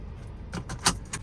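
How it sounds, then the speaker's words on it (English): A seatbelt buckled inside a 2023 Kia Sonet HTK+ 1.2 manual: a few quick, close metallic clicks and a sharper latch snap over a low cabin hum. "first let's buckle up"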